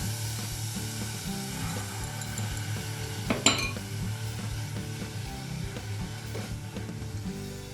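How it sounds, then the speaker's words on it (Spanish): Pumpkin purée with agar-agar stirred in a pot on the stove, a low gentle bubbling with faint scraping and a sharp clink of a utensil against the pot about midway. "Removemos bien y mezclamos"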